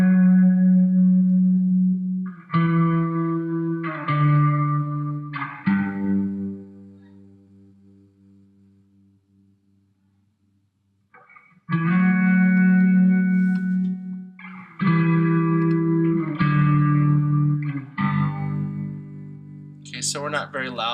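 Electric guitar played through an effects unit with distortion and echo, heard as sustained, ringing chords in short phrases with a long quiet gap in the middle before the playing resumes loudly.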